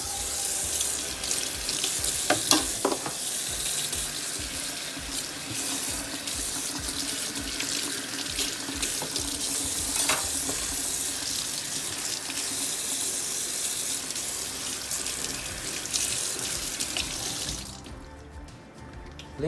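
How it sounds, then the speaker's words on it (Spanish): Tap water runs steadily into a kitchen sink while a butter knife and spoon are washed, a continuous close hiss with a few brief clinks near the start before the flow cuts off near the end. "Lava el cuchillo de mantequilla y la cuchara en el fregadero."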